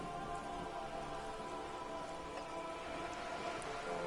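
Steady rain patters in a PS4 video game, a dense, even hiss of drops on surfaces, soft and continuous with no voices or thunder.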